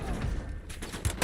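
Burst of gunfire in a military shooter video game, dense crackling shots layered with low rumble, sustained through the moment with a louder shot near the end.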